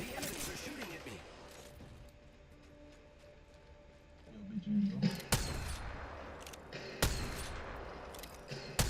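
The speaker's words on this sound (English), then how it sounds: "The enemies are shooting at me." Enemy gunfire in the Apex Legends battle royale game, sharp loud bursts cracking out around the middle and late stretch, with other game noise in between.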